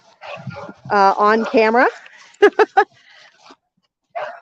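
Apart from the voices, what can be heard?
loose friendly puppy barking and whimpering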